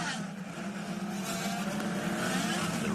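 IndyCar race cars pull off pit road at the St. Petersburg Grand Prix street circuit, their engines giving a continuous loud buzzing roar that builds as they accelerate, with commentary faintly underneath.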